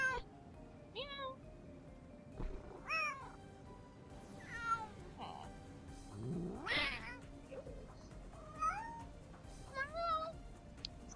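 A virtual cat in a Nancy Drew video game meows repeatedly, a series of short, varied meows and one longer drawn-out yowl, spaced irregularly over a faint background hum.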